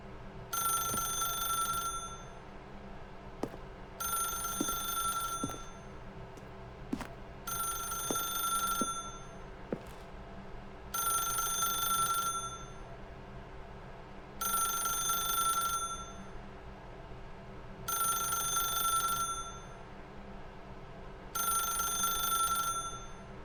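Telephone ringing in The Stanley Parable video game, a bright electronic ring repeating in seven evenly spaced bursts with short pauses between, steady and moderately loud over a low background hum, no talking.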